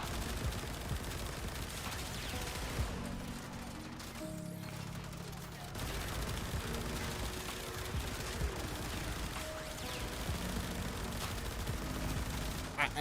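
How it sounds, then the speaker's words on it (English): Machine pistol fire in a video game, rapid bursts of gunshots crackling faintly and repeatedly over a busy, noisy game mix. "It just hits them once. It's a machine pistol."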